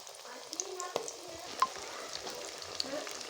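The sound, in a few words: onion lachha pakoras sizzling as they fry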